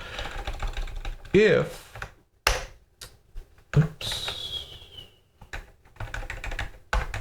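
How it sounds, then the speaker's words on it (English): Typing on a computer keyboard during a Kubernetes command-line demo: close bursts of quick key clicks broken by pauses, with someone talking over parts of it. "I type this correctly, there we go."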